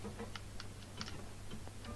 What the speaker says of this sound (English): you can kind of probably hear me clicking